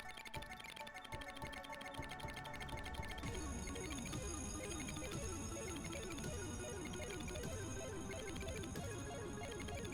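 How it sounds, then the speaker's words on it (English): A phone rings in the casino video game CloverPit, its bright electronic ringtone trilling steadily and loudly, layered over busy game music and jingles for the whole stretch. "So we'll get a phone call. A normal phone call."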